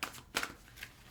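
A brief shuffle of a tarot card deck gives a couple of quick papery riffles close up, alone.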